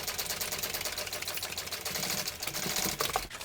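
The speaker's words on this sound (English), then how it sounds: "Now we're sewing where that connector is" A sewing machine stitches a row along a tote bag near a connector, a steady rapid mechanical whirr with a fine clicking rhythm that runs continuously and fairly close, with no talking.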